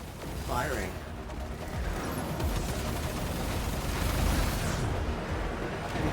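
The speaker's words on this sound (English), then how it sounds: "Torpedoes locked. Target in range. Firing." Torpedoes firing in the video game Warframe, a dense run of booming blasts and rumbling explosions that keeps up loudly throughout, with a few whooshing sweeps over the top.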